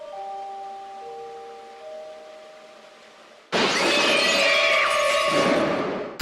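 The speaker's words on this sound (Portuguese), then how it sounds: "o assassino pular em sua direção, quebrando a porta de vidro" A glass door bursts apart in a horror film scene: a soft sustained tonal drone gives way to a sudden loud shatter of breaking glass, with ringing shards continuing and fading over the last seconds.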